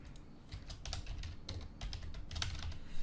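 A container name being typed on a computer keyboard: a steady run of quick, light key clicks, close and continuous for a few seconds, with no voices.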